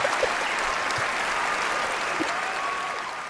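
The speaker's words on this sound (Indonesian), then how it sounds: "Tepuk tangan." Students in a classroom break into applause, a steady, dense patter of many hands clapping at a constant level, with a few faint voices and stray sounds underneath.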